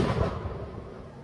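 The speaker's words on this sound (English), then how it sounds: "That was confirmation from the big fireworks." A big firework bursts with a deep, rumbling boom that fades out over about a second, heard from a distance.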